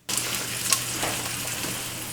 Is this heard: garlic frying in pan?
yes